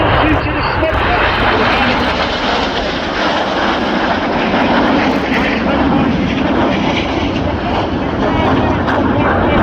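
Fast RAF display jets roar past at Cosford Airshow 2025, a loud continuous broadband engine rush filling the whole stretch, with a commentator talking over it.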